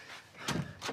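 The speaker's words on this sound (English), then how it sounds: "Albuman, door." A door opening and shutting indoors in a sitcom scene, two broadband knocks or thuds close together with a duller low impact between them, brief and fairly close.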